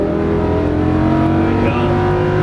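A Lamborghini Huracan LP610-4 on a racing circuit accelerates at full throttle, its engine roaring loud and steady close up with rising harmonic tones throughout and no talking.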